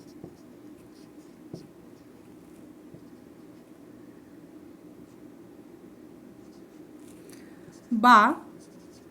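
Handwriting on paper during a Bengali grammar lesson, a faint steady scratching under quiet room tone, with a brief voice near the end.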